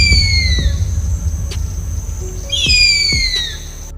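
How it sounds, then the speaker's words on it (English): A bald eagle gives two high, thin, descending piping calls, one at the start and one after a short pause, ringing out clearly over low outdoor rumble. "Bald eagle."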